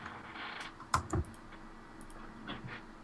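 Quiet bursts of keystrokes tapped on a computer keyboard, a few scattered clicks with one brief flurry, in a quiet room with no talking.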